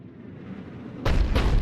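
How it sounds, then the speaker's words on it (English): A Cerberus cannon in Mass Effect 3 fires with a heavy booming blast after a low rumbling buildup, followed by a second thudding shot close behind. "Looks like Cerberus got that cannon operational, Commander."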